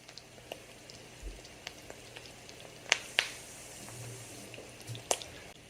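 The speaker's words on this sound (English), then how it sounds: "we're gonna let these fry for about 2 minutes, flip them over, and then cook them for about 2 minutes on the other side as well" Lion's mane mushroom crab cakes frying over medium heat in a cast iron pan, giving a quiet, steady sizzle with scattered small pops and crackles, a few sharper spatters standing out.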